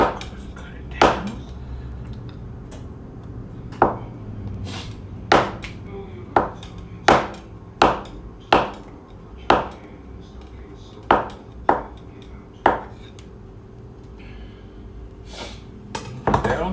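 A knife cuts a half stick of frozen butter on a hard board, about a dozen sharp, separate knocks at an irregular pace, close and fairly loud, with a faint hum underneath.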